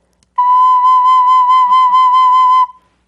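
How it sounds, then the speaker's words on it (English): A regular recorder sounds a single sustained B note, a pure steady whistle-like tone held for about two seconds, loud and close with no talking. "Here is a regular recorder, and I'm going to play the B."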